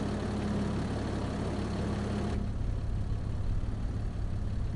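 Tractor engine idling in Farming Simulator 25, a low steady rumble that drops slightly in brightness partway through, with no talk.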